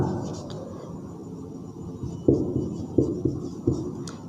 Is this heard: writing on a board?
yes